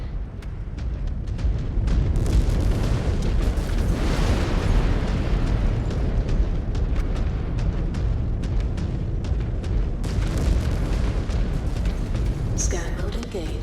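A mech's reactor exploding in the MechWarrior Clans video game, a long rumbling eruption with crackling debris that roars on at high volume, with speech audible over it.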